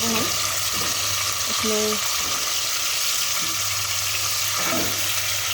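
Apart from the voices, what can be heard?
chicken frying for chicken achar gosht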